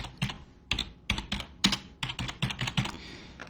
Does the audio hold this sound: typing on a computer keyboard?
yes